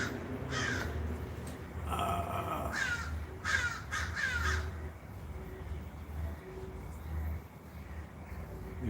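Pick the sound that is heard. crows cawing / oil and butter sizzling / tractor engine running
crows cawing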